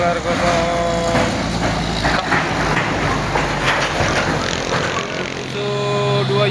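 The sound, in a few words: trailer trucks climbing uphill, engines revving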